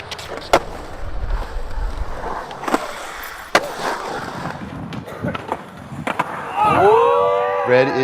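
Skateboard wheels roll and clack through a concrete snake run, with sharp board impacts and a rising grinding whoosh near the end, fairly close, with faint wind and no clear talk.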